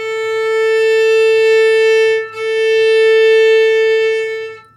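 Two long open A string notes bowed on a violin, each held and steady, close and loud, with a brief dip between them.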